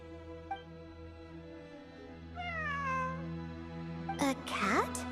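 A cat meows in the video game Genshin Impact, a rising-then-falling call near the middle followed by a few sharper, louder meows toward the end, all over a steady bed of game music.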